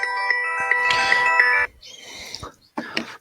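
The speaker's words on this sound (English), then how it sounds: "Shall I turn this phone off?" A mobile phone ringtone plays loudly in a bright repeating electronic tone for about a second and a half, then stops. Faint sounds and a short burst of voice-like noise follow.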